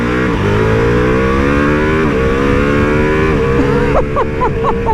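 A 2021 Ducati Multistrada V4S motorcycle rides on a highway, its engine droning loud and steady with rising and falling revs under heavy wind rush, and a voice comes in near the end.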